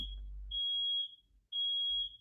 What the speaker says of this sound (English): sorry, that fire alarm. Waiting a second for it to stop beeping.